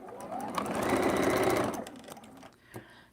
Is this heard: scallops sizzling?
no